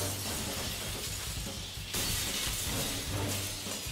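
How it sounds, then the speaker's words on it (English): Windows shatter in the video game Killer is Dead, a loud, dense crash of breaking glass that fills the whole stretch, with a fresh burst of smashing midway. "The sound keeps happening before the windows break."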